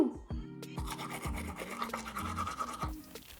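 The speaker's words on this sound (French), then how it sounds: "Bien sûr, j'ai une brosse les dents." Teeth brushed with a toothbrush, close and clear, a rapid rhythmic scrubbing of bristles that runs steadily for a few seconds and then stops, with no talking.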